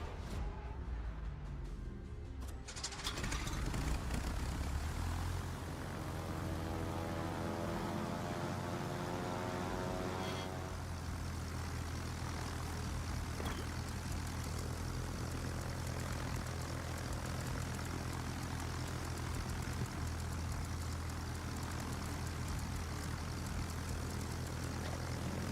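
Propeller aircraft engine droning overhead in World of Warships, a rising throb that swells in after a few quiet seconds and then holds as a loud, steady buzzing roar for the rest of the stretch.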